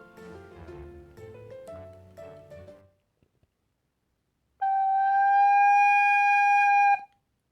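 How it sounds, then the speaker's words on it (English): A descant recorder plays a few short melodic notes, falls silent, then returns with one long held note that starts loud and steady, bright and clear, before cutting off. "I am going to play a crescendo on the recorder."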